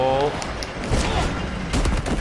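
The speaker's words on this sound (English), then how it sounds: "Did someone just try and shoot me right in my face?" Gunshots ring out in a volley toward the player in Batman: The Telltale Series, loud and close, with sharp cracks repeating across the moment amid voices and game background noise.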